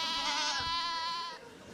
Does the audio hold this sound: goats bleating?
yes